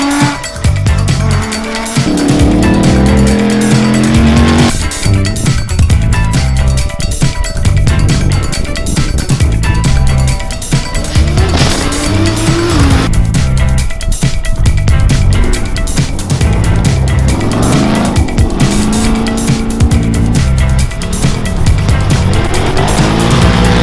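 Race cars on the final two laps of the 2020 Perenjori 360 for the Rod Hatter Memorial Trophy, engines roaring loud and continuous with rising and falling revs, passes and tyre squeals, no talking.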